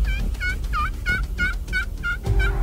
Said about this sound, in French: Puis là, on sait qu'il y a un autre tom qui se dirige vers nous.